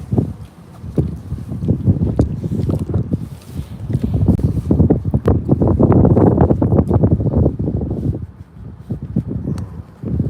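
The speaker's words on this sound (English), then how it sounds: "Over here, the wind is strong." Strong wind gusting across an open horse farm, a loud, continuous rushing roar that swells and buffets the microphone, peaking midway before easing, with no other clear sounds.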